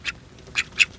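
A duck beside a small rattan-weave patio pond gives three short, nasal quacks, close and clear, spaced unevenly with quiet pauses between them.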